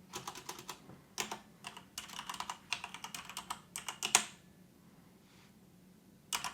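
Quick bursts of keystrokes on a computer keyboard as an address is entered, close and crisp, in several rapid clusters with short pauses, then a quiet gap before a final brief flurry; no voices.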